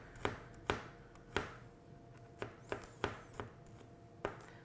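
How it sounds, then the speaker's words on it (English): A kitchen knife chops garlic roughly on a cutting board, with about nine sharp, crisp knocks at an uneven brisk pace, close and clear over light background hiss. "we're just gonna give the garlic a nice rough chop"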